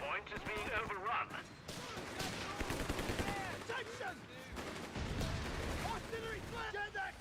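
Battle sounds from the World War II strategy game Company of Heroes: scattered gunfire bursts, rapid machine-gun rattles and thudding artillery, moderately loud and layered under radio-style voice chatter.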